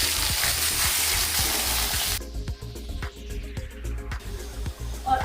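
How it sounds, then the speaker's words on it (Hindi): Onions frying in a pan with a loud, dense sizzle that suddenly drops to a lighter crackle, scattered stirring scrapes and clinks throughout, close up with no talking. "तो इसको फ्राई कर देते हैं, इसको रेड फ्राई कर देते"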